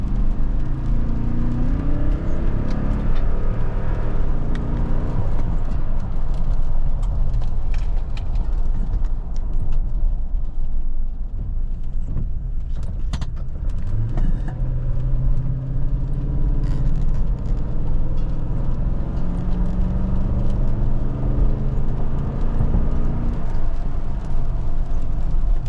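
Toyota Sequoia rolling slowly through traffic, a steady loud cabin rumble and road whir with a low engine drone throughout, no voices.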